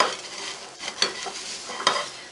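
Oil-free hash browns get flipped in a pan with a spatula, giving soft scraping strokes and a few sharper clicks of metal on the pan over a steady, close sizzle.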